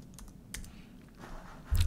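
Keyboard typing while entering a word as 3D title text in Final Cut Pro: a few soft, scattered key taps at close range, ending in a louder burst of clicks.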